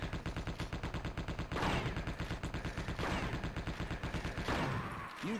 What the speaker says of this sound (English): Also lit up by Capri's machine gun.